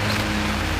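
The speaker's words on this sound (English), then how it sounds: "with the rain commencing" Rain beginning to fall outdoors, a steady soft patter that fills the moment with an even wash of noise at moderate level, with no voices over it.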